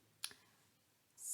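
A computer mouse gives a quick double click, two crisp close taps in a quiet room, followed by a soft rising hiss.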